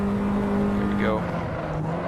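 An Abarth 500 Esseesse engine in Assetto Corsa hums with a steady, loud drone, its pitch dipping briefly mid-pass and settling again, mixed with tire and road noise.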